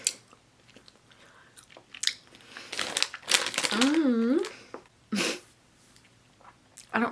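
Sugar-coated melon candy being chewed up close, with wet, sticky mouth noises and crinkling in short bursts, while a person talks and makes vocal sounds between bites.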